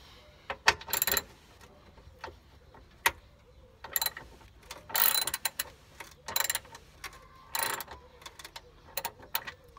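Ratchet clicking in short repeated bursts while tightening the wishbone (control arm) bolts on a car during a suspension replacement, close and fairly loud, with bits of mechanical clatter and no talk.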